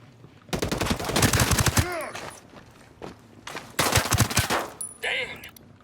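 Bursts of automatic rifle fire in Ghost Recon Breakpoint during a combat mission, long loud rattling volleys with a pause between them, followed by sharper single shots and metallic clinks, close and dominant.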